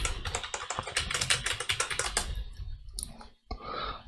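Rapid typing on a computer keyboard while naming a new C# script in a Unity game tutorial, with dense close key clicks for about two and a half seconds, then a pause and a few scattered keystrokes.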